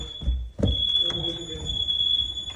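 A fire alarm emits a continuous high-pitched electronic tone at moderate distance, running steadily beneath people talking and a low rumble of background noise.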